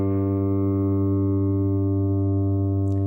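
A single low guitar A string, tuned down, rings out steadily, sustained and clear with rich overtones, decaying slightly before being cut off.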